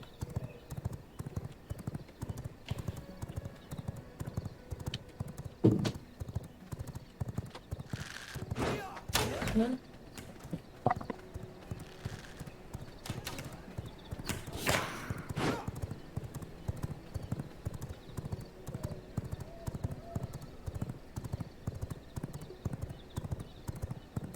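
A horse's hooves clip-clop steadily in the video game V Rising, an even rhythmic trot through the whole stretch, with a couple of louder whinny-like bursts partway through.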